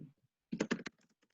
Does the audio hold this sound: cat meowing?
no